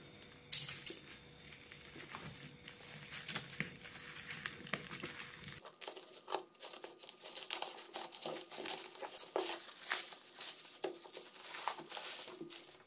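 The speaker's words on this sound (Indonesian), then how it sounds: "Namun sebelumnya kita akan unboxing terlebih dahulu." Plastic packaging crinkles and tears as a package of Supreme NYA 2.5 mm single-core copper electrical cable is unwrapped, a close, busy run of crackling rustles with no talk.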